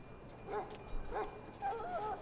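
A dog in Dragon Age: Origins lets out three soft, high whimpering yips spaced about half a second apart, faint and close over a quiet background.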